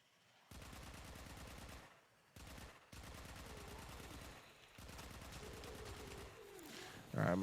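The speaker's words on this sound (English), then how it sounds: "I'm going to shoot some enemy" Steady automatic gunfire from Warframe weapons shooting enemies, sustained in long bursts with short gaps, loud and close, ending in a sharper blast.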